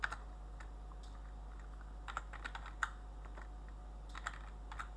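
Quiet keystrokes on a computer keyboard while a message is typed, coming in short irregular bursts of clicks with pauses between, close and soft over a steady low hum.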